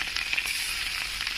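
Fish frying in hot oil gives a steady, close sizzle and hiss with small crackling bursts, and no voices are heard.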